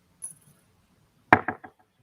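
Several sharp hammer blows on a metal stamp set into a copper blank, using a hammer a bit too light for the job: one strong strike then two quicker, fainter follow-ups, close and dry, with a faint high ring just before.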